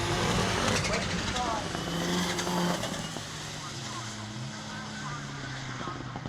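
A rallycross car at Croft accelerates back onto the power toward the finish line in the British Rallycross Championship, a loud engine roar rising then easing into a distant drone, under continuous race commentary.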